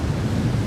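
Towering surf waves at Mavericks roll and crash in a steady, close, heavy roar, with wind buffeting the microphone throughout the brief moment.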